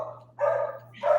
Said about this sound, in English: We have dogs.